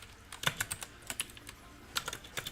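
Irregular bursts of keystrokes on a computer keyboard during a coding session, close and fairly quiet, with short pauses between clusters of taps and no talking.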